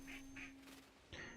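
Duck quacking in the video game Soulframe, three short faint quacks, two close together then one after a pause, over a soft steady hum.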